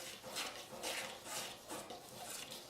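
Dry cookie ingredients of flour, baking soda and salt being mixed in a bowl, a soft, steady rhythmic swishing and scraping with repeated strokes, fairly quiet and close, without talk.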